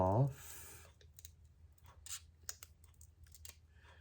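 Scissors snip off small pink paper bits for a scrapbook page, a few quiet, crisp clicks spaced over a few seconds after a brief word from a voice.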